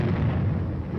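Air bursts from a battalion of 105mm howitzers, a heavy continuous rumbling roar of overlapping low blasts, loud and sustained without distinct separate reports.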